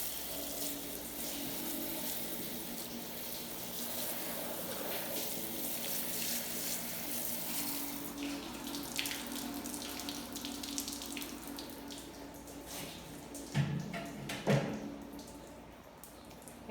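Water runs steadily from a tap as a cheese mold is rinsed, a continuous splashing stream close by, with brief clatters of the mold being handled near the end.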